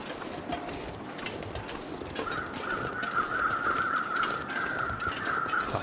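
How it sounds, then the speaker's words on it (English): Crows cawing in The Long Dark, rough caws heard over a steady windy wilderness ambience, with a sustained bright tone entering midway and holding to the end. "Cluster of birds."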